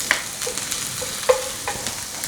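Shallots and garlic sauté in a pan while a spoon stirs them, a soft sizzle broken by light scraping strokes and a few clinks of the spoon against the metal, close by and with no talking.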